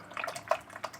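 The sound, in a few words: paintbrush being rinsed in water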